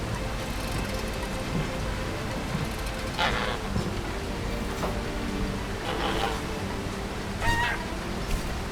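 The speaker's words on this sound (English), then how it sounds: "Oh, there's the geese." Geese honk in the video game Amerzone: a few scattered, fairly faint honks set against a steady wash of falling rain.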